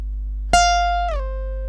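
A single plucked guitar note on the first string rings out, then slides smoothly down from the 13th to the 8th fret and sustains, played alone over a faint steady hum.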